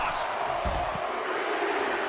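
Arena crowd roaring during a WWE 2K24 wrestling match as Stone Cold Steve Austin works the audience, a dense continuous wash of cheering with a few thuds, moderately loud.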